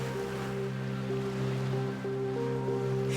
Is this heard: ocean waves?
yes